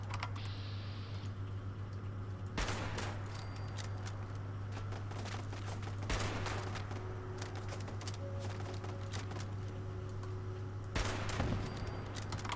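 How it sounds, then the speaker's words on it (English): Machine gun turrets fire in Fallout 76 in short, sharp bursts, several loud clusters spread across the stretch, mixed with rapid keyboard typing and faint game ambience. "The only thing with this place is those bloody machine gun turrets there."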